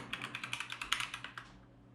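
A database statement being typed on a computer keyboard: a quick, even burst of about a dozen crisp keystrokes heard close, ending after under two seconds, with no talk.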